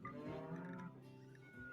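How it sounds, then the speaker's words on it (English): Turkeys gobble in a video game, a close, dense run of rattling gobbles that carries through the whole short stretch with no voices over it. "Oh, turkeys."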